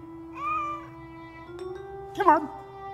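An animated cartoon cat from the Mr Bean series gives a clear, drawn-out meow, then a sharper, rising yowl a moment later, loud and close, over a steady background tone.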